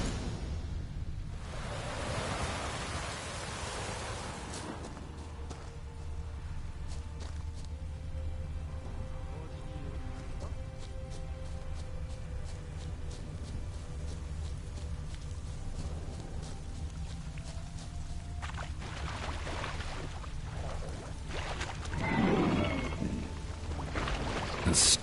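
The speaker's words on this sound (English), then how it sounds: "The storm, damn it." Steady storm rain in a PS4 video game, a constant hiss of downpour with a low rumbling bed, swelling briefly near the end, no voices.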